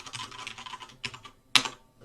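Python code being typed on a computer keyboard: quick bursts of close, crisp keystrokes with a brief pause and a sharper, louder key hit near the end.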